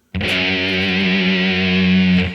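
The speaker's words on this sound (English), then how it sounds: "we should have played the G on the third fret of the E string" A single sustained distorted electric guitar note, the G on the third fret of the low E string, rings out loud and steady for about two seconds before cutting off, with no one speaking.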